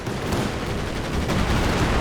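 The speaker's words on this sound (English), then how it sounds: "Artillery firing on target." Continuous battlefield din of artillery and gunfire from a British commander's barrage in a strategy video game, a dense rumbling roll of distant shots and blasts that stays steady and loud throughout, with no talking.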